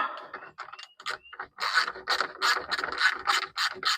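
Ratcheting clicks and scraping from fasteners being tightened on the engine splash shield of a Mercedes W126, several bursts of close mechanical ratcheting with short pauses, no talk.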